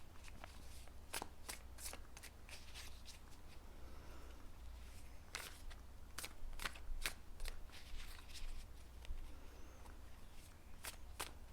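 Tarot cards being shuffled by hand, close and steady, with repeated crisp riffling bursts and flicks spread across the whole stretch against a low background hum.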